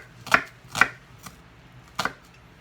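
A fairly blunt kitchen knife slices through a vegetable in four crisp chops, three firmer cuts and one lighter tap, close by with no voices.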